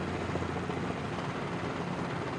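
Robinson R22 helicopter flying in Microsoft Flight Simulator over El Nido, a steady, dense simulated rotor and engine drone that holds at an even level throughout with no voices.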